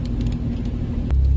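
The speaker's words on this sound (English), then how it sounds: "welcome to another episode of Amanda is in her car again" Cabin of a car while driving, a steady low road rumble and engine drone with faint interior rattles, continuous and close with no talking.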